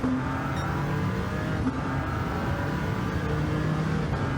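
A race car engine in Gran Turismo 7 at Le Mans drones loudly and steadily at high revs, a constant close-up whine with slight pitch shifts and no talking.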